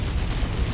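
Explosion from giant bullets in the bullet-hell shooter MOTHERGUNSHIP: a dense, loud, continuous boom and rumble filling the whole moment, close and heavy.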